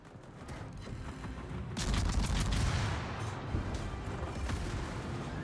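Naval cannon fire in World of Warships as a cruiser shells the player's ship, heavy booming salvos with a dense rolling roar building after a quieter start, distant and muffled.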